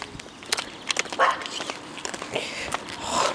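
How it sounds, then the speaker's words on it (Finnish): Dogs in a yard give a few short, scattered barks and yelps at moderate distance, mixed with light rustling and footsteps, with no talk during the sounds. "Tuolla, tossa pihassa on koiria."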